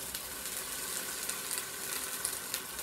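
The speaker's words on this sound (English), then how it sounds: "I'm going to grab here my wine to deglaze the bottom" Wine poured into a hot pan to deglaze the bottom after searing short ribs, giving a loud, continuous hissing sizzle with crackling pops throughout.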